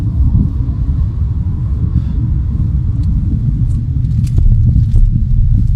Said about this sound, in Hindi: अगर हम इसको 60-65 की स्पीड पे ड्राइव कर रहे हैं और आपको गाड़ी को एकदम से रोकना पड़े तो कैसा फील होता है